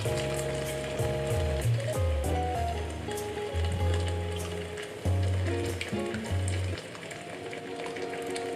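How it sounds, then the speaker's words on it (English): A whole kettle of water poured into a hot pan for ghormeh sabzi, a Persian herb stew, giving a steady loud sizzle and bubbling hiss that holds throughout, with clattering tones on top and a brief dip near the end. "Pour the water in."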